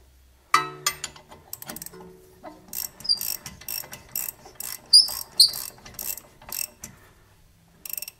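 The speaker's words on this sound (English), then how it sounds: "we'll go ahead and tighten this down" A ratchet tightening a bolt on a 1999 Toyota Camry, loud close clicking in quick bursts of repeated ratchet strokes with short pauses between, some metallic clanks, no talking.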